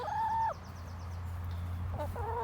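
Chickens clucking while scratching for bugs and beetles in a square bale of grass, two drawn-out clucking calls close by separated by a gap, over a steady low hum.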